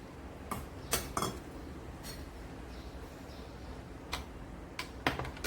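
A spoon clinks against a glass or vessel while salted buttermilk mixed with cumin powder is stirred, with sparse sharp ticks and taps over a quiet hissy background, no talk.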